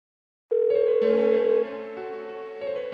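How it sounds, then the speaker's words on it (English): An unanswered phone in Persona 4 Golden sounds with a loud, steady electronic ringing tone, one long burst followed by continuing sustained rings with no voices. "Why won't she pick up the phone?"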